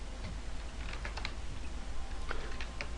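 Rapid keystrokes on a computer keyboard while text is typed into a SmartArt graphic, a steady patter of close clicks over a constant low hum.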